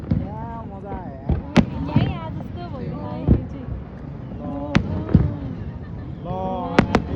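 Fireworks marking the end of summer and the boating season burst in a string of sharp, loud cracks and pops, some close together, under people talking throughout.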